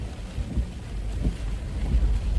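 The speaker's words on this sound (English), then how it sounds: "Thunder and lightning here in this convective band." Thunder rolls from a convective storm band during flooding in the Carolinas, a deep low rumble with steady rain noise throughout.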